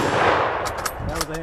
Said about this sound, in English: That was a hang fire.